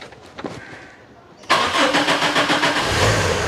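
A car engine cranks and catches with the gearbox in neutral, a sudden loud start after quieter handling noises, then settling into a steady running idle.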